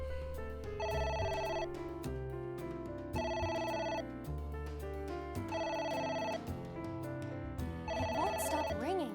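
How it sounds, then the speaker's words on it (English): A telephone rings in the AI: The Somnium Files video game, repeating an electronic bell-like trill in four evenly spaced bursts over background game music, fairly loud and alone with no talk. "It won't stop ringing."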